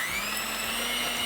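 Electric stand or hand mixer whirring steadily on a gentle setting while beating butter and sugar for a spiced chai tea cake, a continuous close motor drone with a high-pitched whine and no talk.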